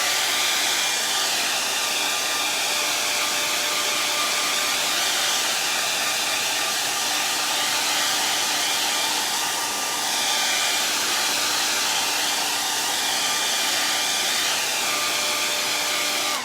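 A hair dryer blow-drying fresh paint on a painted door hanger, running as a steady loud whoosh with a constant motor whine for the whole stretch, alone with no talk.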